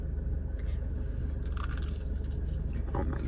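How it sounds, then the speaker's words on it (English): Someone chews crispy, crunchy breaded Chick-fil-A chicken, giving close, wet crunching bites over a steady low rumble of car-interior noise. "Nice, crispy, crunchy breading"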